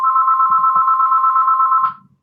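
A telephone rings with a loud, steady electronic warble that holds for almost two seconds and then cuts off abruptly, leaving faint room sound.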